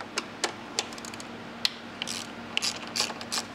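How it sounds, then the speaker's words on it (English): A ratchet with an extension and an 8mm socket loosens dash bolts on a 2024 Jeep Wrangler or Gladiator, giving close, crisp clicking bursts in uneven short runs against a faint background hum. "we're gonna grab an extension and an 8mm to pull the other 2 out"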